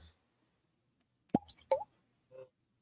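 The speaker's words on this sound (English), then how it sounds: "bottles are in part at least judged on how good the bottle pop is, the cork pop is" A cork popping out of a Powers Irish Whiskey bottle, a quiet stretch broken by a sharp hollow pop followed by a second squeaky pop and a faint later knock, close and otherwise silent.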